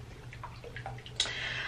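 A bottle of Maybelline Superstay 24HR skin tint is shaken once in a short burst of liquid sloshing, with a few faint taps and rattles leading up to it, close and fairly quiet.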